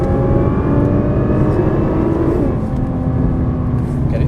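Nissan R35 GT-R engine pulling hard under acceleration on a track while overtaking, a loud, steady close roar with rising harmonics throughout, a coach speaking over it.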